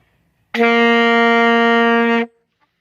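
A single sustained alto saxophone G note held steady for under two seconds, clean and bright with a firm start and a quick cutoff, alone in silence.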